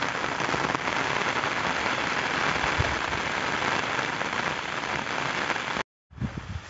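Steady, dense rain hissing and pattering on surfaces in a village, filling the clip, then a brief cut to silence and a few closer drips and knocks.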